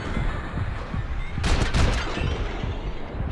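A short burst of rapid gunfire from an odd weapon in Max Payne 3 breaks out midway, loud and close over a low background rumble.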